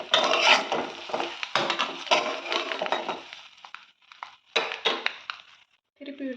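An egg roast seasoned with pepper and chili powder is flipped and fried in a pan: close, loud bursts of spatula scraping and clattering against the pan, coming in uneven waves with short pauses between.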